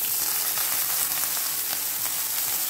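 Sliced bitter gourd (ampalaya) fries in a generous amount of hot oil, a steady, dense sizzle with faint crackles and pops, close and continuous with no talking.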